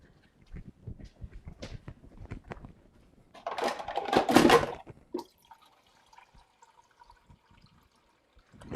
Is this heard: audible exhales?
no